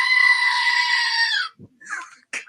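A goat gives one long, loud, wavering bleat lasting over a second, followed by brief faint voices and shuffling noises.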